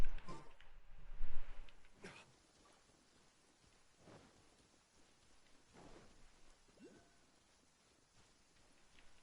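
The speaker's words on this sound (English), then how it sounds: "Got hit by fucking lightning." Thunder from a lightning strike in the Genshin Impact video game, a loud rolling burst near the start, then soft steady rain with a few faint crackling rumbles.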